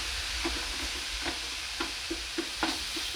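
Food being broken up with a utensil as it cooks on a hot plate, steady sizzle and frying under a series of soft scraping and tapping strokes at an irregular pace, close by with no talk.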